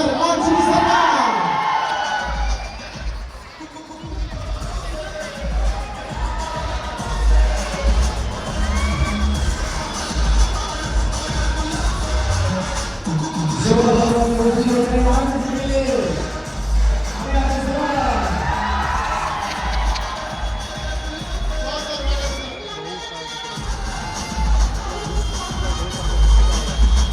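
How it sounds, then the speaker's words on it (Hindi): A large crowd at a motivational seminar in Patna cheers, whoops and shouts loudly for about half a minute in a packed hall, the roar swelling and dipping with scattered yells over it. "जोरदार तालियों के साथ स्वागत कीजिए"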